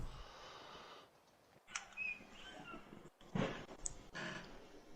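A pet cat meowing and snorting close by, several short vocal bursts with breathy sounds between quieter pauses.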